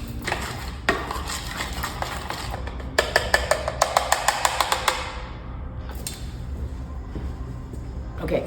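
An egg being stirred into cream cheese cheesecake filling with a utensil against a bowl, a steady scraping and clinking with a quick run of rhythmic taps in the middle, close and moderately quiet.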